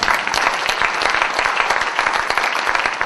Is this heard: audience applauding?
yes